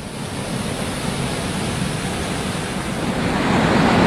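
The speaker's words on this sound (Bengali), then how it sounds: "জলের আওয়াজ আপনারা পাচ্ছেন হয়তো, অসাধারণ ফোর্স" Phe Phe Falls, a two-tier waterfall in Meghalaya, a dense, continuous roar of rushing water, loud and close, swelling slightly toward the end with no other sounds over it.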